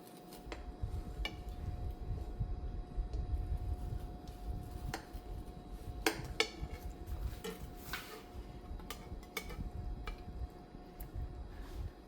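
A knife slices through a Spanish almond cake on a plate, giving faint scraping and soft clicks of the blade against the dish, scattered through a quiet room without talking.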